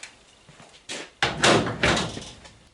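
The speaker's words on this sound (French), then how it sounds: "Allez, je referme la porte." A car door on a Citroën Traction 11B being shut after fitting a handle, heard as a couple of solid thunks with a rattle, close and fairly loud.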